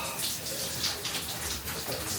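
Cold water splashes and sloshes steadily during a cold-water body soak, a continuous hissing wash of water with brief brighter splashes, fairly loud and close.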